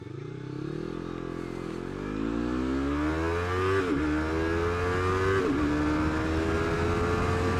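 A Yamaha R3 motorcycle launches and accelerates hard on a highway, its engine note climbing steadily through the revs with quick clutchless upshifts marked by brief dips in pitch, loud and close, with steady wind rush underneath.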